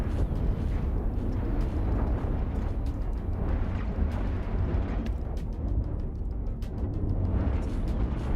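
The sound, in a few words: explosions on ships in Cosmoteer video game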